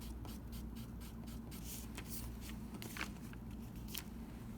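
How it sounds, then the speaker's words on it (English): Black pen or Sharpie marker outlining a drawing on paper, a close, quiet run of short scratchy strokes and scribbles with faint background hum, no talking. "you'll take a black pen or a Sharpie and you'll outline it like this"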